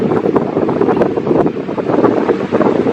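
Strong gusts batter a camera microphone on a tripod near Green Lake Road outside Sitka, Alaska, producing loud, continuous rumbling wind noise with irregular surging bursts and no voices.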